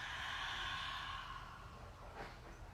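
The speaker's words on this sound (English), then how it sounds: "Take a deep inhale. Open mouth, exhale." A long, deep breath let out through an open mouth during a yoga session, soft and airy, trailing off slowly and close, with no talking over it.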